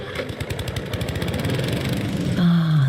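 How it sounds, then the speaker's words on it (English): A lawnmower engine in a radio advert sputters with a rapid pulsing chug, then settles into a steadier running drone toward the end. "There's only one place you'll hear lawnmowers this far from land"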